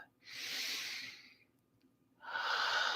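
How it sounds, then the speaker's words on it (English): A slow, deep breath during a meditation: a long airy inhale, a quiet pause, then a soft rushing exhale, close and calm. "take a deep and clearing breath"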